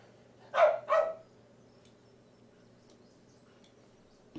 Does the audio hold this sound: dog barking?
yes